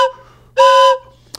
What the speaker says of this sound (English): So when you hear those different whistle toots along the way, every one of them has a different meaning